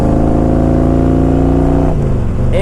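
A 2000 Harley-Davidson Electra Glide Classic motorcycle engine runs loud and close with a steady, deep rumble, then its pitch dips near the end.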